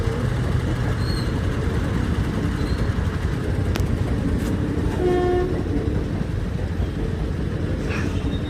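A local passenger train rolls along with a constant loud rumble and clatter heard from on board, a faint horn-like tone rising briefly partway through.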